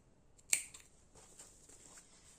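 Scissors snipping fabric while sewing a basic zippered pouch: one sharp, close snip, then a few faint follow-up clicks in a quiet room.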